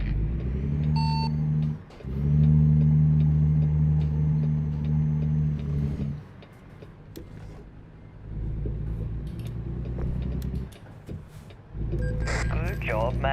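A truck in a driving simulator game grinds along with a steady low engine drone that drops out and resumes, with brief beeps and a voice talking at times.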